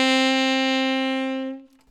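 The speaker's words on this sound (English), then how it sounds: "For those of you who are playing the tenor saxophone, the new note D will sound like this." Tenor saxophone sounds a single sustained note D, steady and close for about one and a half seconds before fading out, with no talking.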